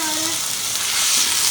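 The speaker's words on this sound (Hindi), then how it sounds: "तो फ्राई कर लेते हैं थोड़ा" Julienned chicken strips fry in hot oil, giving a loud, steady, close sizzle that swells slightly toward the end, with no voices over it.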